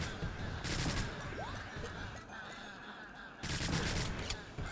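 Rapid video-game gunfire from a weapon that fires two bullets per shot, a dense fusillade of shots in two loud bursts with a quieter stretch between, game effects layered underneath.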